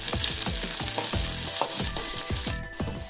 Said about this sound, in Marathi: कांदा थोडा लालसर झाल्यानंतर त्यामध्ये अद्रक लसूणची पेस्ट टाकायची